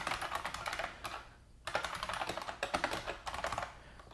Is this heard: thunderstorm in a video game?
no